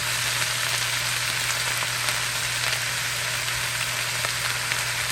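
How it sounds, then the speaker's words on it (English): Cabbage cooking down in butter in a pot hisses with a loud, steady, close sizzle and fine crackle, continuous and without talk. "While that cabbage is cooking down"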